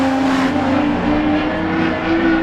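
Race cars roar loudly down the main straight in the closing laps of a circuit race, a continuous dense engine drone with rising pitch as they pass.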